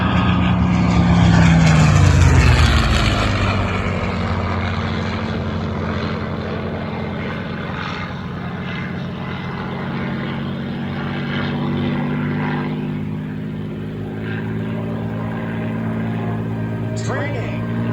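A P-51 Mustang and an F4U Corsair make a flat pass at the Belleville/Ypsi airshow at Willow Run Airport, with loud piston-engine propeller roar that swells, shifts pitch as they go by, and holds steady under a commentator's voice.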